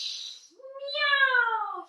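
A voice imitates a cat's meow during a children's yoga class, one long, close mewing call that rises and then bends downward, preceded by a short breathy hiss.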